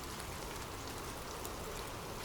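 Steady rain falls continuously, a dense even hiss of drops on surfaces with no breaks or other sounds, soft and constant throughout.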